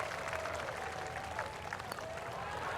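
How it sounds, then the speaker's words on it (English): A golf gallery in the video game EA Sports PGA Tour claps and murmurs softly in the background, a thin, distant patter of applause with a faint tonal hum running beneath it. "The crowd loves it."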